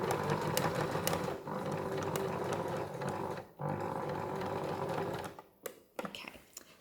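A sewing machine stitches handbag fabric in a steady, close buzzing run that slows and stops near the end, with a few ticks of the mechanism.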